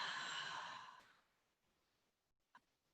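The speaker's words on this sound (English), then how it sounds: "Nice easy breathing in through the nose and out through the mouth." A long, audible exhale through the mouth during a Pilates flow fades into near silence, followed by a brief, faint breath sound.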